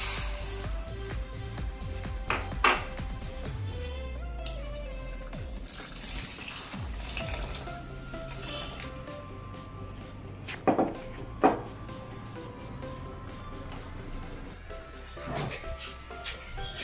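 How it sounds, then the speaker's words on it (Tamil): Toor dal lentils swished and rinsed in water in a bowl in a home kitchen, with splashing, trickling and clinking of grains against the bowl, several sharper knocks and pours, a continuous wet churning up close. "ஃபர்ஸ்ட் நம்ம பருப்பை வாஷ் பண்ணிக்கலாம்."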